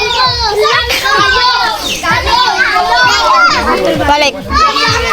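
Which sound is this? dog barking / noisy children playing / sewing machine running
noisy children playing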